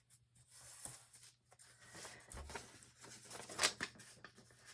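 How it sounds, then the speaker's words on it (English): Paper page being folded over and creased by hand during a twine and book page sculpture craft, soft crinkles and a few quiet rustles and scrapes, close and faint. "I'm going to just fold that over"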